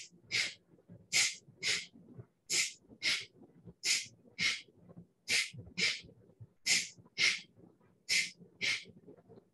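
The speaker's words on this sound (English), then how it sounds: "Kapalbhati, alternate nostril, 11 sets" Kapalbhati alternate-nostril breathing exercise: sharp, forceful nasal exhalations in quick pairs, about twenty bursts in a steady rhythm, close and fairly loud, with soft passive inhales between and no talking.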